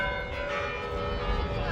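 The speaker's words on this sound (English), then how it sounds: "you can hear the bells that come through here often" Church bells ring out near Red Square in Moscow, a steady sustained peal with layered tones hanging in the air against a low outdoor rumble, moderately loud and without any talk over it.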